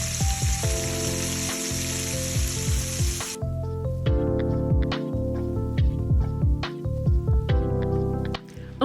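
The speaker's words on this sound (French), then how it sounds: "je fais revenir tranquillement dans de l'huile bien chaude avant de réserver" Fish lightly dusted with flour fries in very hot oil, giving a steady crackling sizzle that runs beneath continuous background music, loudest during the opening seconds.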